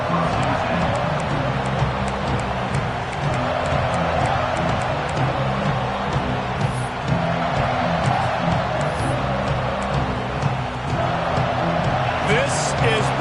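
Stadium crowd in an American football video game, a steady loud roar of massed fans running continuously with faint swells and no distinct cheers standing out.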